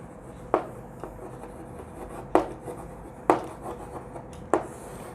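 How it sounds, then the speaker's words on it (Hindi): Chalk or marker strokes on a classroom board during a lecture, a few sharp taps and short scratchy bursts spaced a second or so apart, close and moderately loud over a quiet room. "इसको मैं इधर कहीं लिख देती हूँ"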